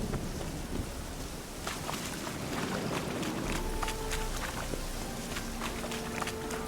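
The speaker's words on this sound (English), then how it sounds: "The storm, damn it." Storm ambience in The Witcher 3: Hearts of Stone, with steady rain and wind hiss under low rolling thunder and scattered crackles, continuous and fairly distant.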